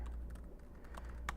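Fingers tap quickly on a computer keyboard while someone writes code, giving a steady run of soft, close clicks with a few sharper keystrokes and no talking.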